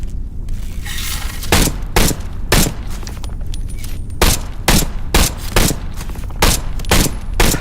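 Glock pistol shots in the VR shooter Into the Radius 2, fired on single shot: about a dozen sharp, loud, close reports at irregular intervals, with a faint room hum between them.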